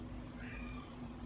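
An aging cat howls somewhere in the background, one drawn-out faint wavering yowl over a low steady hum.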